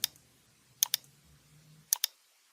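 Sharp, close mouse clicks come in pairs, a lone click then two quick double clicks, while confirming dialog windows in structural modeling software, with a soft low hum between.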